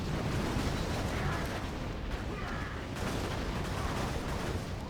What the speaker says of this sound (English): See, those missiles are just flying out.